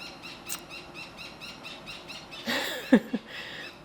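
A parrot lets out a short burst of harsh squeals near the end, close and fairly loud, after a stretch of faint rhythmic chirping in an outdoor summer garden.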